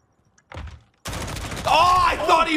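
Gunfire from a Call of Duty esports match between New York Subliners and Atlanta FaZe, with shots through a wall. Short bursts of shooting come first, then a continuous stretch of fire, with an excited commentator talking loudly over it.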